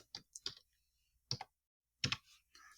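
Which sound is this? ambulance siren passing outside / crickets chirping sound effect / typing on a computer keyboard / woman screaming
typing on a computer keyboard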